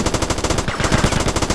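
Rapid automatic gunfire from the video game GTA Liberty City Stories rattles out in a fast, even burst, loud and dense throughout with no talking.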